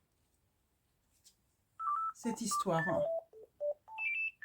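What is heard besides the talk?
mobile phone ringing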